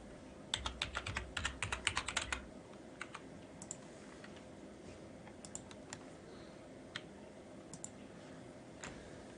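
Loud computer keyboard typing in quick bursts of clicks for the first two seconds, then sparser individual key taps continue over a low background hum.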